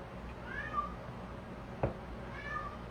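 Two soft, high cat meows drift in from a little distance, one early and one near the end, over a quiet kitchen hum with a brief knock in between.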